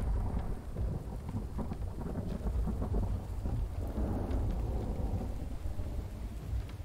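Rain with rolling thunder in the survival game The Infected, a steady wash of rainfall under a deep low rumble that swells and lingers across the whole stretch, with no talking.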